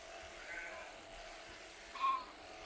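Ewes kept for breeding on a farm bleat, one clear bleat standing out near the end above a soft, steady barn background.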